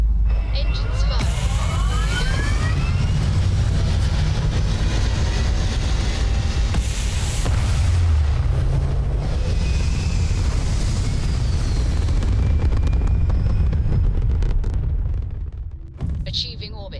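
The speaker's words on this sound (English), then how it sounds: "Engines firing." Spaceship engines fire in Starfield with a loud, steady roaring rumble and hiss that holds for most of the stretch before easing off near the end.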